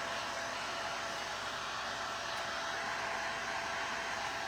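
A hair dryer blows on a faux blueberry pie craft made from recycled materials, a steady loud whooshing roar that holds without a break, close by, with no talking.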